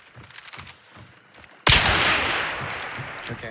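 Gunfire in the video game Hunt: Showdown: a single sudden, loud shot bursts in after faint quiet background activity, then leaves a long rumbling echo that slowly fades.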